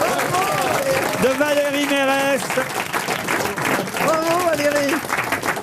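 A studio audience on the French comedy panel show Les Grosses Têtes breaks into dense, steady applause that lasts throughout, while voices speak over the clapping.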